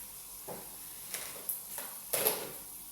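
Five or six large chopped onions frying in a pan for Emirati machboos: a steady soft sizzling hiss, punctuated by a few brief scraping stirs, close and fairly quiet, with no voices.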